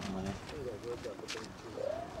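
Young racing pigeons cooing and fluttering at a release start, several soft warbling coos close by over a murmur of background noise.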